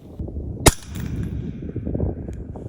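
A single sharp rifle shot cracks out once, followed by low wind and ambient rumble at a long-range steel-target shooting setting at 600 yards, with a New Frontier Armory G4 rifle.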